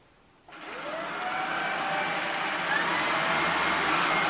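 A Shark Anti Hair Wrap cordless stick vacuum cleaner switches on after a moment of quiet and runs with a steady, loud motor whir that rises slightly and holds, close by with no talking.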